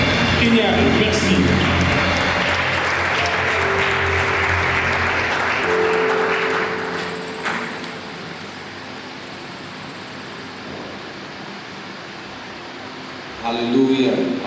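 An audience at a church ceremony gives an honorary award applause, dense and loud for several seconds before fading to a softer patter, then swelling again at the end.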